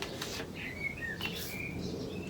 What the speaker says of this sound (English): can you hear the birds?